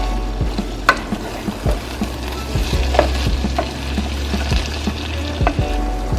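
Ground beef and vegetables frying in a pan, a loud, steady sizzle up close with scattered scrapes and knocks as the mixture is stirred, without any talking.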